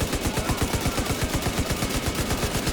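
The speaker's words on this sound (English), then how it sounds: "I got him pinned down with light machine gun." A light machine gun fires in the video game Division 2. The burst is sustained and rapid with evenly spaced shots, loud and dense and continuing throughout, with no talking over it.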